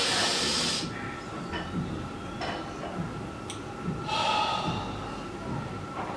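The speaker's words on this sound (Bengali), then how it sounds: "নাক দিয়ে জোরে টানবেন" Forceful breaths drawn hard in through the nose during a lung breathing exercise, close and hissing, repeating several times in loud bursts over a steady breathy background.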